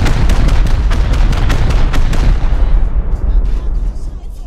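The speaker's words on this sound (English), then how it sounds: "Stand over here and fire 15 rockets." Rockets explode in rapid succession during a Rust raid, a dense barrage of loud, close booms that crowd together and then fade into a rumbling tail.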